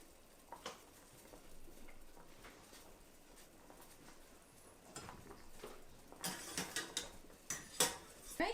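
Cooked sweet potato gnocchi are lifted from a pot with a utensil, giving faint scattered clinks and scrapes of metal against cookware, growing busier toward the end.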